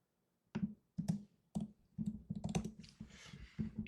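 Quiet clicking keystrokes on a computer keyboard come in short bursts with brief pauses, close-up and alone without speech.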